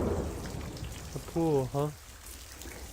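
Steady rain pours in the horror game Corpse Party, a constant wash of drops that carries on under a brief spoken remark.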